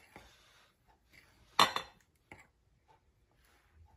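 Dry flour, baking powder and salt stirred together in a bowl for a brown sugar cake: soft scraping and light clinks of a utensil against the bowl, with one louder burst of rattling in the middle and quiet gaps between.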